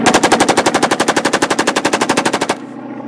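A stage sound effect of rapid gunfire during a live comedy-thriller play, a dense machine-gun-like burst of about two dozen evenly spaced loud shots that cuts off sharply, leaving a low hum.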